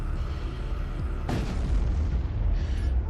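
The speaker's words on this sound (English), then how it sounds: "Magical Artillery for the win" A magical artillery spell detonates in a fantasy video game: one loud, close boom that bursts in abruptly and rumbles on with heavy low-end debris noise, free of speech.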